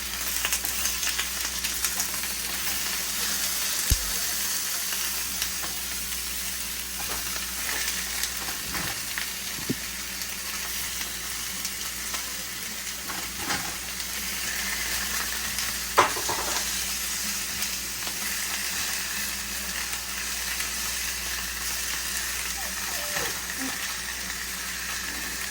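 Meat sizzling in a pan for a soul food dinner, a steady close crackling fry with occasional scrapes and clunks of a utensil turning pieces.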